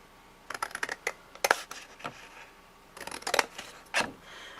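Scissors snip through the scored edge of a cardboard cookie box in two quick bursts of close, crisp cuts, each a cluster of short sharp snips separated by a brief pause, with no talking.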